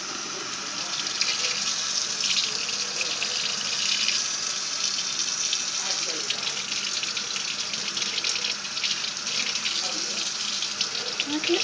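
Tap water runs in a steady, close gush while a baby is rinsed in her bath, splashing continuously throughout.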